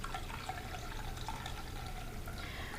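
Salt water pours steadily into a container around a cup, a soft continuous trickle and splash that stays fairly quiet and even the whole time, with no talking.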